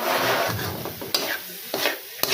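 A kakanin mixture stirred in a hot pan over a farm cooking fire, a steady scraping swish with faint sizzling underneath and a few sharp clicks of utensil against the pan.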